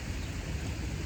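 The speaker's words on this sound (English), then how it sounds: "you can hear the fountain in the background" A fountain splashes steadily in a local park in Madrid, a dense continuous wash of falling water filling the background with no other sounds standing out.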